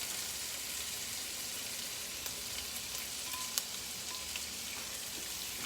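Oil heats in a pan on the stove, giving a quiet, steady sizzle and faint crackle with a few soft pops, with no talking.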